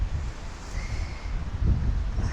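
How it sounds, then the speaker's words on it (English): Strong outdoor wind buffeting a microphone, a steady low rumbling roar with gusty swells that rises again near the end, no voice. "why the wind is so strong today?"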